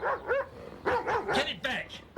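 A dog barks in short bursts, several yaps in quick succession over a couple of seconds, close and fairly loud, mixed with vocal-like sound, in a tense domestic scene.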